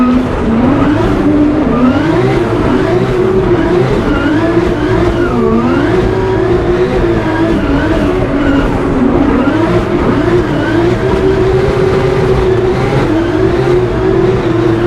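Drift cars in a Drift Masters chase battle, a loud engine screaming and revving continuously with pitch rising and falling, mixed with tire squeal and skidding, close and relentless.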